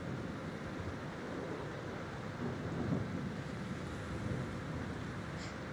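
A thunderstorm rolling over a naval battle in World of Warships, with steady rain and wind roaring continuously and a low rumble of thunder swelling briefly near the middle.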